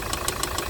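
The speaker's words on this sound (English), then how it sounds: "as you can hear, the loud banging, so I'm going to turn the engine off" A Hyundai Load i800 D4CB diesel engine knocks hard while idling, a loud, regular banging about every 0.15 seconds over a steady engine rumble, close and continuous.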